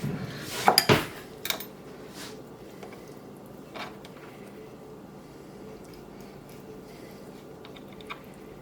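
A metal baking pan clatters and scrapes as it is handled while a whole chicken is skewered shut for roasting, with a loud cluster of knocks at the start, then faint rustling and occasional small taps.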